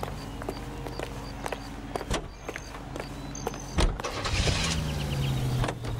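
A car drives in L.A. Noire with a low engine rumble under scattered clicks and thumps, followed by a louder swell of road and engine noise near the end.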